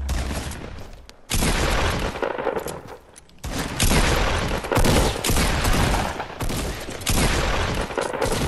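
Gunfire in a Naughty Dog video game fills the scene: dense, loud volleys of rapid shots with booming bursts, running almost continuously with only brief lulls and no talk over them.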